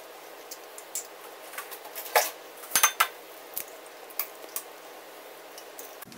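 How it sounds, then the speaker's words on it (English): Eggshells clink and tap lightly as a yolk is passed back and forth between two shell halves to separate the egg whites, a scattered series of small, faint, close clicks in a quiet kitchen. "So you kind of juggle them between the 2 shells."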